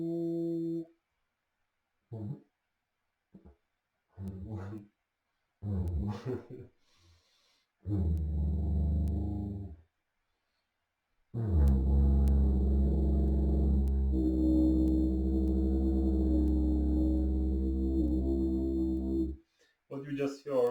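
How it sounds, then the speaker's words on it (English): C didgeridoo droning in resonance with a sung C note, a low steady hum swelling for several seconds after a series of short breathy attempts and pauses. "What you just heard is the resonance of my C voice with C didge."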